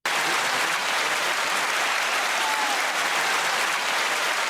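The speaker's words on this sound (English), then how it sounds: "Listen at that applause." Sustained applause from an audience fills the whole stretch, a steady dense wash of clapping at even loudness with no break.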